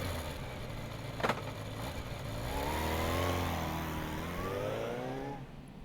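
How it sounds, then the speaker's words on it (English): A motorcycle engine revving in the video game Spirit Hunter: NG, a steady mid-pitched drone that climbs in pitch as it accelerates, moderately loud, with a brief click near the start and no speech. "I grab my motorcycle at my apartment and zip off to Shinza Station"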